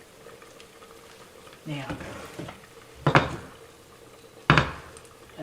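A corn fritter dropped into a hot pan, with a few loud bursts of sizzling and clattering at separate moments over a quiet background, and a brief spoken word near the start.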